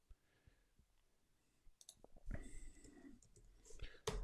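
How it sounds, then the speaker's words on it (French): Mouse clicks on a computer, a few quiet, sharp clicks spread through a near-silent stretch, with soft handling noise and a brief louder click near the end. "je clique ici"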